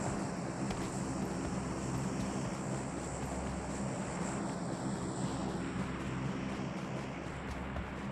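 Steady, continuous drone of an airplane engine flying in the PUBG Livik game map, a low constant roar that holds level throughout with no talk.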